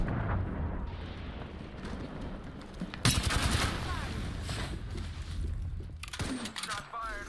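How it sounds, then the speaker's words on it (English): Bursts of video game gunfire crackle over a busy, loud mix, with a sharp, dense volley near the three-second mark and another around six seconds, mixed with game sound effects and voices. "Shots fired. Contact with target."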